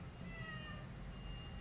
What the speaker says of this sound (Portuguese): A minha gata tá tentando entrar de todo jeito aqui